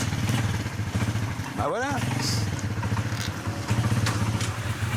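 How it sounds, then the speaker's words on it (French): An old, beat-up motorbike idling in Iran with a steady chugging rumble and one quick throttle blip midway; someone speaks briefly over the engine. "C'est pas la première fois que je pars avec une moto pourrie."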